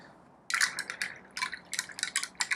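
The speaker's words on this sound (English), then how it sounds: "Rinse the brush. Okay, now we can start over." A paintbrush is swished and rinsed in a water container, a quiet series of irregular splashes and trickling drips close by, in short bursts with small gaps between them.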